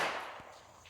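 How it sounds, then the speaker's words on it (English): A single sharp report from a Rossi 65 .38 Special revolver fired for precision, a loud crack right at the start that decays through the rest of the second, with no voices. "Shaky old man tries to shoot precision."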